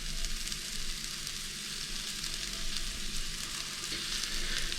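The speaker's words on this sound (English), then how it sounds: "In the meantime, I'm going to cook the mushrooms." Mushrooms frying in a pan over high heat make a steady, close, bright sizzle and crackle that continues without a break, with no voices.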